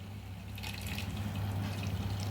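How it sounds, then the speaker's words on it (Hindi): Hot water pours into a bowl of semolina (sooji) for puri dough, a soft steady liquid trickle and splash close by over a low constant hum, with no talking. "इसमें हम डालेंगे गर्म पानी ताकि सूजी अच्छे से जो है फूल जाए"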